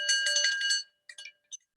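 A hand bell rung to mark the end of a 60-second presentation slot: a bright, close ringing that lasts almost a second, then a few shorter, fainter jingles before silence.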